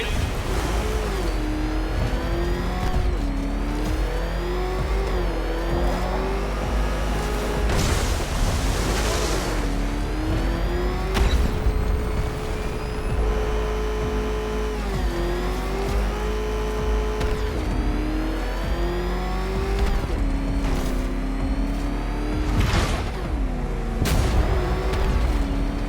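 Batmobile engine from the video game Batman Arkham Knight racing along, a loud continuous motor drone whose pitch climbs and dips with each surge of revving, steady throughout with no talk.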